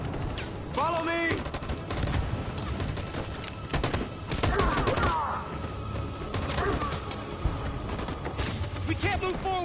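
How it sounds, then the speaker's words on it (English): Machine gun fire in a battle scene from the video game Detroit: Become Human: dense, sharp bursts of rapid gunfire with crashes and impacts, loud and continuous, shouting voices mixed in. "That machine gun is taking down everything that moves!"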